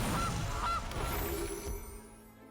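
Cartoonish goose honks from the Gilded Goose card in MTG Arena, a couple of short nasal calls over a game soundtrack, fairly close and clear, fading toward the end.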